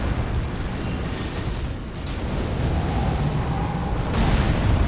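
Magma spell explosives going off in a fantasy video game fight against a Fire Giant, a dense continuous rumbling roar with repeated bursts that swells louder toward the end, with no talk over it.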